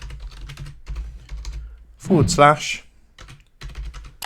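Keys click on a computer keyboard in quick bursts as a Discord invite link is entered, with a short spoken word in the middle breaking up the typing.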